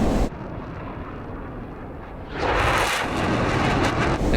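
Jet engines of a B-2 bomber roar in flight within a flight simulator game, a steady broad rushing drone that suddenly grows louder and brighter partway through, then holds there.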